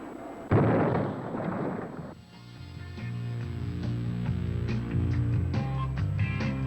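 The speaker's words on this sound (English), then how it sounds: "As planned, walleye hit the ship at the base of the superstructure." A Walleye guided bomb strikes a harbor utility ship at the base of its superstructure on the Pacific Missile Range: one sudden loud blast with a brief roar, then fading under a music track.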